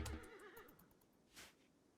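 In the video game Rimworld, a donkey gives a short, quiet bray with a wavering call that fades quickly into a faint background.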